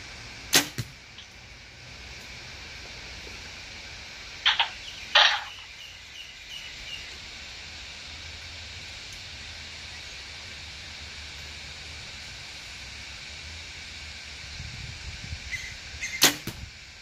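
Archery arrows shot at a target, a few sharp isolated impacts spaced apart against a steady outdoor background hiss with faint birdsong.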